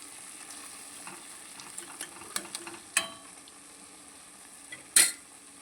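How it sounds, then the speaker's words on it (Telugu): Masala powder stirred into a simmering tomato and boiled-egg curry, a soft steady sizzle with scattered scraping taps of a spoon against the pan and a couple of sharper clinks near the end. "ఇప్పుడు మసాలా పౌడర్ వేసిన తర్వాత ఒకసారి ఇలా కలిపి"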